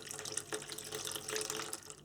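Water pours in a short, close stream into a container on a scale while weighed out for cold process soap lye solution, with splashy trickling bursts and no voices.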